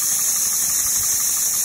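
Homemade model steam engine running slowly, a steady mechanical hum with soft rhythmic chuffing pulses, close-up under a constant hiss.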